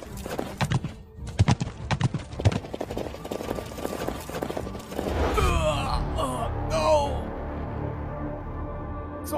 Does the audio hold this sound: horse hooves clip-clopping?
yes